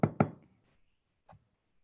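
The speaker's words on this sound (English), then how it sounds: "Lindsey knocks on the door." Someone knocks on an office door twice in quick succession, then once more softly after a pause, close and crisp with no voices.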